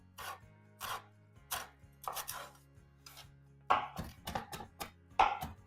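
Fresh cilantro is chopped with a knife on a board, a close run of crisp, uneven cuts and rubbing scrapes, sparse at first and then quickening into denser clusters, with a low steady hum beneath.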